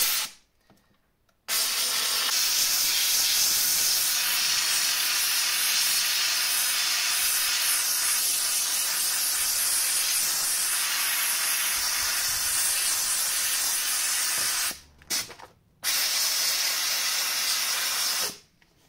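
A steamer hisses loudly and steadily while softening and lifting the film from a BMW E87 120d LCI headlight, cutting out briefly near the start and twice more toward the end.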